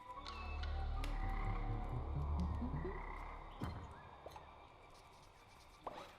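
A frog croaks repeatedly in the video game CleanFall, loud and close with a low, throaty rhythm that fades out, followed by a few soft clicks and faint game sounds.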